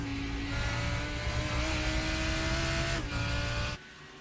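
A race car engine screams at just over 7,600 RPM at Spa during the 24-hour race. It is loud and sustained, with a brief dip before it cuts down sharply to a lower rumble near the end.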